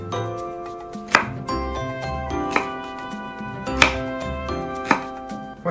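A knife chops vegetables into bite-sized pieces on a board, five or six distinct sharp strikes spaced about a second apart over low kitchen background hum, with no speech.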